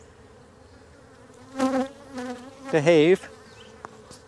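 Honey bees buzz around an open hive during hive work in Jacksonville, Florida, in two close, loud bursts with quieter hum between, and a brief spoken word cuts in.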